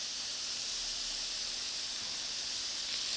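Pork tenderloin and peppers sizzling in a skillet, giving a steady, even hiss that runs unbroken for a few seconds with no voices.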